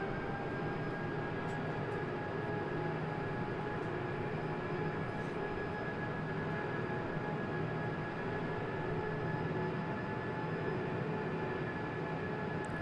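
Steady jet engine roar of an E-Jet airliner on its takeoff roll in the X-Plane 12 flight simulator, a continuous broadband rumble with faint tonal whine holding level throughout, no voices.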